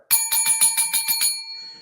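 A bicycle-style bell rings in a rapid burst of about seven bright metallic dings in a podcast quiz game, close and clear, then fades into a short ringing tail.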